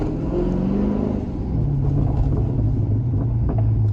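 Engine rumble of a Dodge Scat Pack fitted with a JLT cold air intake, a steady loud low drone with shifting revs during a drive, while distinct exhaust pops stay hard to pick out.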